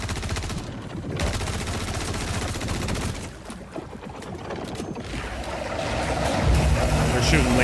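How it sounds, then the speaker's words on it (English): Rapid bursts of laser fire from a video game, loud and dense, coming in quick rattling volleys that swell toward the end, with a voice talking over them at times. "They're shooting lasers at me and shit."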